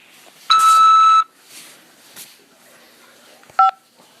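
A phone keypad sends DTMF tones on a call from a corrections facility: one loud, steady dual tone lasting most of a second, followed later by a short second tone. Faint line noise fills the gaps, with no voices.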